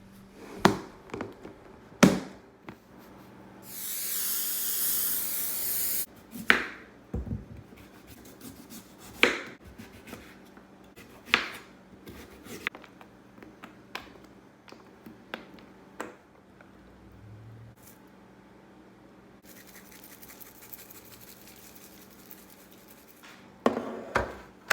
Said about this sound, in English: I'm cutting up my fruit and mixing it together